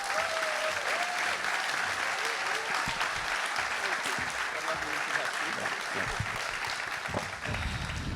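Audience applause welcoming actor Andrew Garfield at a festival conversation event, steady dense clapping from a large crowd sustained throughout, loud and continuous with no break.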